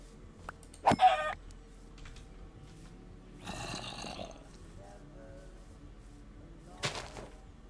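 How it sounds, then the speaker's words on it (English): Minecraft chickens cluck in short bursts, a sharp squawk early on followed by a longer clucking flurry and another brief squawk near the end, over a quiet game background with no speech. "Oh, there's a chicken."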